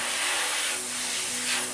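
Paint sprays steadily from an airbrush onto a Cthulhu Death May Die miniature, a continuous close hiss that swells and eases slightly over under two seconds, with no voices.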